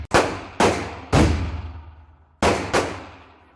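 Pistol shots at an outdoor shooting range, likely a NAK9 Draco or Hi-Point: five loud, sharp cracks spaced unevenly, each trailing into a long echoing decay, with no talking.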